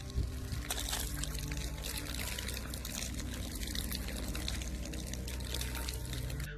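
A man spews a long, steady stream of water from his mouth, like an open tap, with a continuous pouring, splashing rush that stays loud and unbroken for several seconds.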